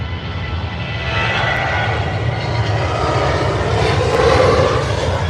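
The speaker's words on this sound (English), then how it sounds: "Jet" A passenger jet at Manchester Airport gives off a steady, loud engine roar that swells slightly toward the end, broadband and continuous, with no voices over it.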